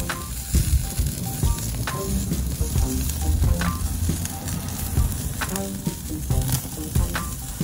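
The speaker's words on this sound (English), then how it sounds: "Now we have a nice coal bed going, so time to get that steak on." A tomahawk steak sears over a bed of hot coals on a parrilla grill, giving a steady, loud sizzle with crackles and pops throughout.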